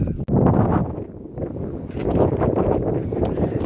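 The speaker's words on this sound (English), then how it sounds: "the wind's picked up" Gusty wind buffets the microphone outdoors beside a Honda Civic hatchback project car, a steady low roar that dips briefly, then swells again in stronger gusts.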